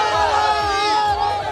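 A crowd of devotees shouts at Kashi Vishwanath temple in Varanasi during PM Modi's visit, with loud, overlapping voices calling out close by in a continuous babble.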